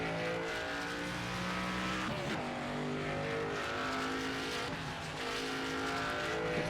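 A NASCAR stock car in the NASCAR 25 video game weaves to warm its tires before a qualifying lap, engine droning steadily with gear shifts and rising and falling revs, close and loud without talk.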